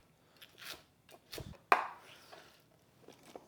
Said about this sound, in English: I'm gonna slice these about a couple centimeters.